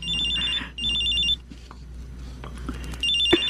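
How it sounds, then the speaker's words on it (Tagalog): A mobile phone rings in repeated bursts of a bright electronic ringtone, close by, with short gaps between the rings and a low background hum beneath. "Ma, nagre-ring ang cellphone niyo."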